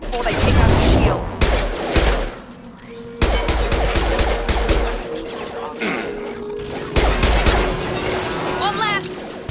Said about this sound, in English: Shoot them before they take out the shields.